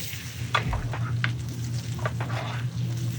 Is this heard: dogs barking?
no